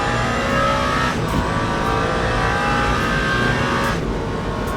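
A race car engine in Le Mans Ultimate roars steadily and loudly, its revs rising and dipping slightly as it drives through a left-right sequence of corners.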